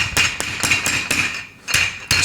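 A chicken breast is pounded flat with a mallet on a kitchen board, a run of sharp, close thuds at an uneven steady rhythm, with one short pause before the strikes resume.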